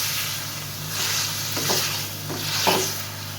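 A paste of garlic, ginger and green chilies fries with liver, making a steady close sizzle with a low hum underneath, and a few scraping stirring strokes rise briefly near the end, with no talking.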